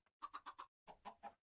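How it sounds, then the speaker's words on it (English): Chicken in Minecraft Skyblock giving seven short, evenly spaced clucks in two quick bursts, close and fairly quiet with no talk over them. "I hit the chicken."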